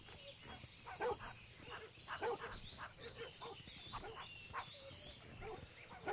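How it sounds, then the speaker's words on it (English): Several small puppies bark and yip in a World of Warcraft picnic scene, a busy run of short repeated yaps over steady game ambience. "Who has a bunch of puppies on a picnic?"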